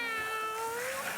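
A cat meows in one long, drawn-out call that rises slightly in pitch, heard clearly and fairly close against a steady background hum.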